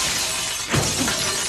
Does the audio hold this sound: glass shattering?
yes